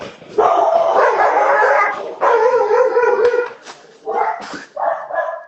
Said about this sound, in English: Oh, you got dogs.